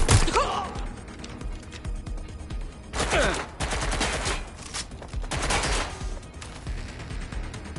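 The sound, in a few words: gunshots in video game Watch Dogs: Legion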